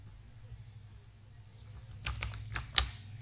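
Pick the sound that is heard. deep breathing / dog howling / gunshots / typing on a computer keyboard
typing on a computer keyboard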